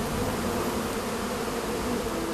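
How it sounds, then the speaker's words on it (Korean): Wild honeybees swarm around a hive on a cliff face roughly 1,000 m up a remote Indonesian mountain, a dense, steady buzzing drone that fills the air at close range without pause. "벌집을 지키고 있는 꿀벌들을 침착하게 연기로 쫓아내야 한다"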